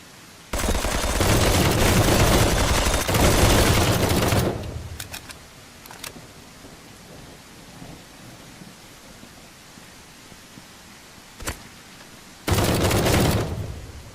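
Gunfire from the video game Citizen Vigilante, sniper shots among it: a loud, dense burst of shots for about four seconds, a few sharp isolated cracks, then another short heavy burst near the end.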